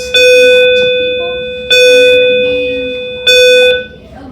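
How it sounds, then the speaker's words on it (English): Three loud, clear school bell tones ring at even intervals, each striking sharply and fading slowly before the next, with no voices over them. "as the bell interrupted Declan at the end"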